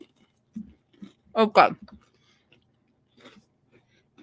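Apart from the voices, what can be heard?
chewing crackers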